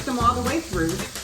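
Thick pork chops seasoned with garlic and black pepper browning in a hot pan, a steady close sizzle with faint utensil scrapes and stirring throughout.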